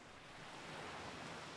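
Steady rushing ocean surf mixed with wind blowing over a sandy dune on Channel Islands National Park, a broad continuous wash of noise at an even level with no distinct breaks and no voices.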